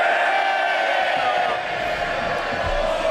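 MPs in the House of Commons during Prime Minister's Questions cheer and murmur as a steady, dense crowd roar that carries loudly throughout with no break.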